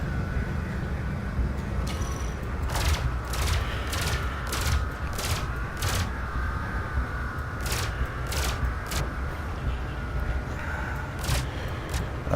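Gimballed pulse lasers on a spaceship in the space combat game Elite: Dangerous fire in a run of sharp, evenly spaced bursts over a steady engine hum, coming in quick clusters with short gaps between them.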